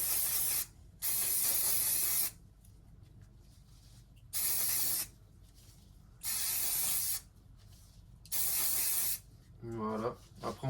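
Air filter oil sprayed around the rim of a motorcycle air filter in five loud, close hissing bursts of about one to two seconds each, separated by quieter pauses; a voice speaks briefly at the end.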